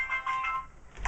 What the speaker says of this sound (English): Sorry about the phone. Somebody calling me.